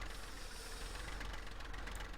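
Tractor engine running in Farming Simulator 15, a steady low rumbling drone with a rough knocking texture, close and constant throughout, no voices.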